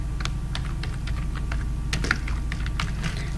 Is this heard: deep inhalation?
no